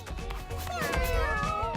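Cartoonish cat meows from the video game Mewgenics, a short wavering meow rising and bending over game music and effects.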